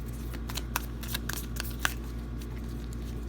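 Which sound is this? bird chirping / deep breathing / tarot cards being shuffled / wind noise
tarot cards being shuffled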